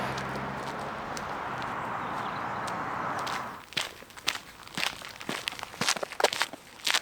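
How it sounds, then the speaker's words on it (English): Footsteps crunching on a gravelly disused railway path near Saltburn, steady close crunches that stand out clearly after a few seconds of steady traffic-like hum, with no talking. "The sound of your footsteps is really ASMR-y."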